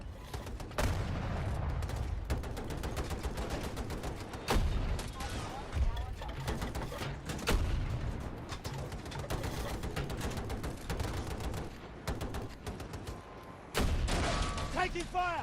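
Gunfire in Battlefield 2042 on PS5: repeated sharp shots and bursts, some loud and close, others quieter, spread through a busy battle bed with voices talking over it.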